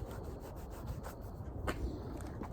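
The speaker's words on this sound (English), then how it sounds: "And rub some paint thinner into it." Steady rubbing as paint thinner is worked by hand into a rubber motorcycle windshield guard, a continuous close scrubbing texture with a few soft strokes, no talking.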